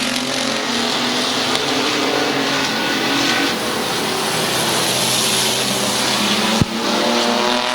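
Race cars roaring around Midvale Speedway on the final lap, a loud continuous engine drone with shifting pitch as cars pass close, and a sharp brief knock near the end.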